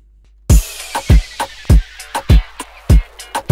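Punchy drum intro for a moombahton remix, with sharp, layered snare hits landing in a steady rhythm, loud and close, with a ringing tail between strikes.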